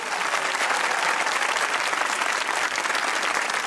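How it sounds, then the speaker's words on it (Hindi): Dense, steady studio audience applause on a Pakistani TV comedy talk show fills the space, loud and continuous with no speech over it. "इस बात पे एक ताली हो जाए।"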